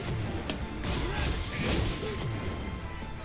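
Jin Kazama's heat smash attack in Tekken 8, a sharp crack followed by dense whooshing impacts and mechanical clatter, loud and busy over about three seconds.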